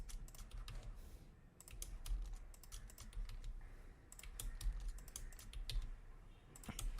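Rapid computer keyboard typing with quick keystrokes and shortcut key presses, steady clicking close up, with no talk over it.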